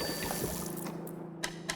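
A desalinator in the video game Flotsam pouring out fresh water: a faint, short trickle and dribble with a couple of small splashy ticks near the end, quiet and alone.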